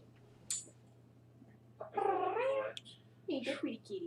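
A cat meows twice over a steady low indoor hum. The first call is drawn out and wavering, and the second is shorter and broken, both fairly close.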